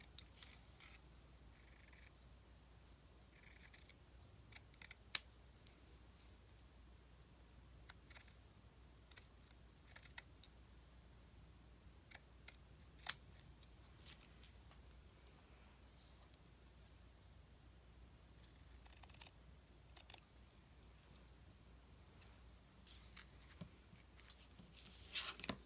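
Scissors snip through paper in a quiet crafting space, a long run of sporadic close, crisp cuts and small clicks at irregular intervals.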